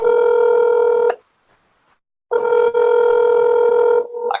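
Telephone keypad tones dial an extension in an automated phone menu: two long, loud, steady DTMF tones separated by about a second of silence, with a brief fainter tone at the end.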